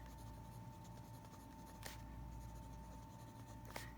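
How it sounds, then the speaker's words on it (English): A pen or pencil writes quietly on paper in a journal, a faint continuous scratching with a couple of sharper strokes, close, over a steady background hum and without talking. "So on this first line here, we're going to write human"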